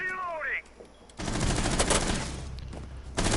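Rapid bursts of video game gunfire crackle loudly through most of the clip during a competitive match, following a brief tonal sweep at the start.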